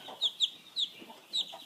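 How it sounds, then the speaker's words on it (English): A week-old broiler chick gives four short, bright peeping chirps in an uneven rhythm, close and fairly loud over faint background noise. "this is a broiler chicken. This guy's only about a week old"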